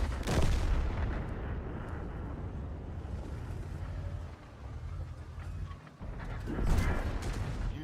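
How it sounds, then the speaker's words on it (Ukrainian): Heavy booming tank combat noise from World of Tanks, a Pz.Kpfw. VII tank, with loud blasts at the start and near the end as a shell ricochets, over a constant rumbling roar. No talking. "Ой-ой-ой, який рикошет."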